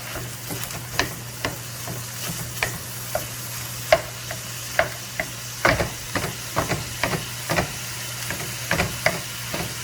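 Ground meat frying in a 4-liter pan while being broken up and stirred, with a steady sizzle, a low hum, and frequent sharp scraping and clacking strokes from the spoon against the pan.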